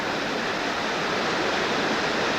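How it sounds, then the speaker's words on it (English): Avalanche Creek rushing through Avalanche Gorge in Glacier National Park makes a steady, full roar of churning water, loud and constant, with no voices. "here's the Avalanche Creek. This is known as Avalanche Gorge."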